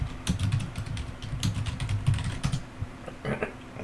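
Someone types code on a computer keyboard, with quick clusters of clicking keystrokes and short pauses, close and fairly quiet with no talking.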